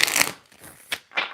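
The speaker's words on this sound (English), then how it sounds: "Pre-shuffles here just real quick to make sure everything is okay." Tarot cards are shuffled by hand in quick, close bursts of riffling and rustling, with short pauses between the bursts.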